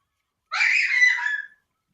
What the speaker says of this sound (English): screaming kid